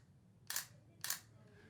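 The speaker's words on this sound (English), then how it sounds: "the normal shutter that you see with a camera such as this A6100" Two crisp mechanical shutter clicks from a Sony A6100 camera, close and distinct, about half a second apart, over a faint background hum.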